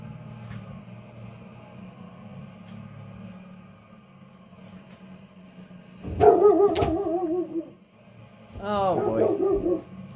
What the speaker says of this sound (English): Don't mind the doggo.